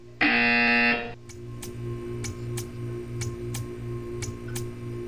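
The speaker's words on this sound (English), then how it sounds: "You will hear a buzzer." A harsh, loud buzzer from the video game Portal 2 blares alone for about a second, followed by steady, quiet ticking.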